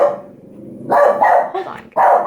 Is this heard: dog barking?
yes